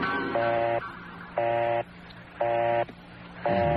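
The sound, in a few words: telephone dialing and busy signal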